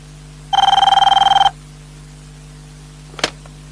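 Classic telephone bell rings once in a rapid trilling burst of about one second, clear and close, followed by a short click, with a steady low hum underneath.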